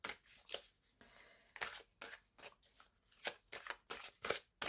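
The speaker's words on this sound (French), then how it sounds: "vous allez tirer une première carte" Tarot cards handled and drawn from a deck, a run of quick crisp riffling and sliding bursts in an irregular rhythm, close and fairly soft, with no talking.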